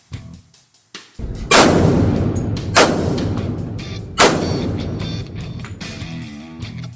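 Three sharp pistol shots from a modern 1911 fired at 3 yards, loud and close, spaced about a second and a half apart, each followed by a ringing reverberant tail.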